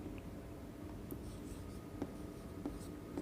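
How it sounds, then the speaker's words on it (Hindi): Pen or pencil scratching across paper while writing out an English grammar example, faint and close, with a few small taps and strokes over a soft background hiss. "अब हम इसका फर्स्ट एग्जाम्पल लिखेंगे।"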